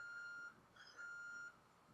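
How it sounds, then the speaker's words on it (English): A faint house alarm gives two long, steady electronic beeps, like a truck reversing, against a quiet background hiss. "I got a friggin' alarm going off in the house"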